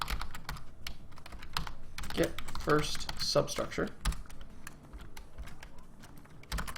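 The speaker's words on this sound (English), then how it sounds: "I'm having so much trouble typing this thing" Rapid clicking keystrokes on a computer keyboard clatter in irregular bursts under someone talking at moderate volume, with a few heavier key presses.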